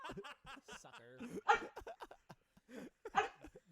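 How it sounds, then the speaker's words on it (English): A dog named Nuggy gives short, sharp yelps and whimpering barks in quick bursts, mixed with chuckles and snickering laughter nearby; fairly quiet overall. "Nuggy, why are you barking?"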